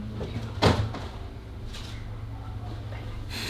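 A door opens with one short knock or clunk early on, then a soft scrape, all heard faintly over a low background hum.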